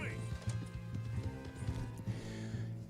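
Horse hooves clip-clop at a quick, rhythmic gallop in Red Dead Redemption 2, steady thuds carrying under someone talking throughout.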